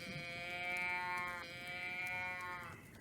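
A cow lowing in the video game Tell Me Why, one long drawn-out moo with a clear rising tone that breaks briefly and carries on, close and fairly loud over a faint background hum.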